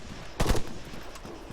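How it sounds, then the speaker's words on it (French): A short burst of rapid gunfire in the video game Altis Life (Arma 3), a quick cluster of sharp shots in the middle and a few fainter shots after it, with no talk. "Ça tire d'où là?"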